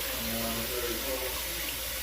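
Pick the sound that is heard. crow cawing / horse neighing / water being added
water being added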